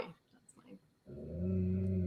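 A dog gives a low growl that swells into a sustained rumbling grumble, preceded by soft short noises and faint whimper-like sounds, close and fairly quiet.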